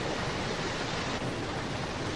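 Steady, dense rush of flowing water at a hydroelectric plant, a continuous broadband roar at even loudness with no breaks and no voices.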